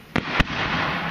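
Two sharp Roman candle shots pop in quick succession at an outdoor pyrotechnics live-fire demonstration, followed by a steady noisy hiss of the burning tube.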